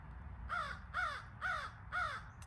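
A crow caws four times in an even rhythm, each call a harsh, clear rasp at moderate distance over a low background rumble.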